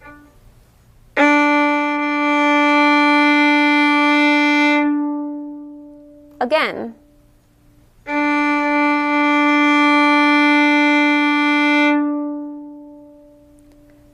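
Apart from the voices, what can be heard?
violin crescendo on open D string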